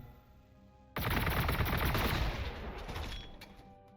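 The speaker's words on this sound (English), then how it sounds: "See if we can just gun you down" Gunfire from a T'au unit in the strategy game Warhammer 40,000: Gladius erupts abruptly after quiet, a loud sustained burst of rapid shots that roars for about two seconds and then tapers off with scattered cracks.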